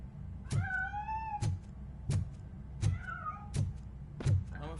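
A cat in the video game RoboCop: Rogue City meows several times, short rising and falling cries spaced around a second apart, each preceded by a dull thump over a low background hum.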